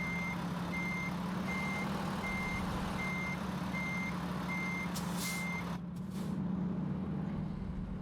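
Steady evenly spaced reversing beeps from a backing truck in American Truck Simulator, sounding over a constant engine idle hum, with a brief air-brake hiss near the end; no voices.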